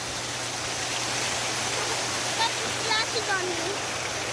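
Water rushing in a steady, even broadband hiss like a small waterfall or stream, close and continuous, with faint voices and chirpy tones surfacing briefly toward the end.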